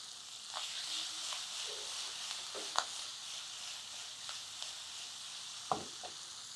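Chopped capsicum pieces frying in a pan for a Senagala Patoli recipe, giving a steady soft sizzle with a few brief stirring clicks near the end.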